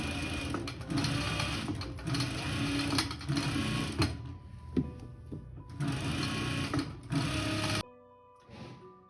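A sewing machine top-stitches the hem of a blanket coat in long steady runs, stopping and restarting a few times, with short pauses and rustling of fabric between bursts and a quiet gap near the end.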